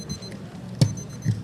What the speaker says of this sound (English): The timer even goes off